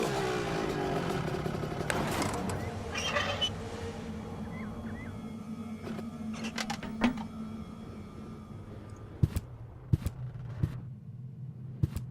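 A mine bike engine in the game Deponia rumbles and revs in the foreground, easing into a steady idle, then a few sharp clicks and knocks ring out near the end.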